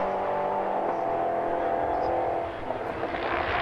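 Fourteen race cars, among them LMP3 prototypes, circuit racing in a BARC event, a continuous loud engine roar holding steady with a brief dip near the end.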